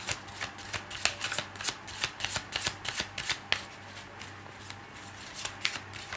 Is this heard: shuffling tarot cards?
yes